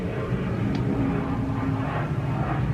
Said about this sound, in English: There's an airplane dusting the fields